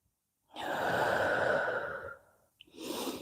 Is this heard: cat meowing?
no